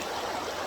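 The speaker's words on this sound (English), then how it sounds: "I'm just sitting in the middle of a forest and I'm just experiencing a good time here, sitting in the river" A river flows through a forest in a dense, steady rush of water, close and continuous with no pauses.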